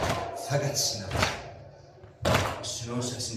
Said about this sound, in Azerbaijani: Sinənin səsini eşidir.